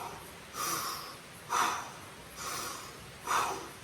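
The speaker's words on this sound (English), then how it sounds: "breathe in fully through your nose or through your mouth, either one" Deep breathing done as a gut-healing breathwork exercise, four slow rushes of air pulled in and pushed out through the nose in a steady rhythm, close and clear, with no talking.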